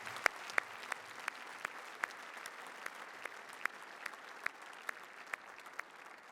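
Audience applause at an awards day ceremony: a steady, fairly distant patter of many hands clapping, with a few sharper individual claps standing out across the whole stretch.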